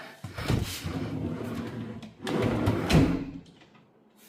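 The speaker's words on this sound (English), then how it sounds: "Look at all these drawers, and it has the soft close." Two soft-close drawers in a newly renovated kitchen slide shut one after another, each a smooth rolling glide easing gently to a stop, close by.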